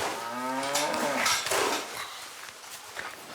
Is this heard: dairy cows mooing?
yes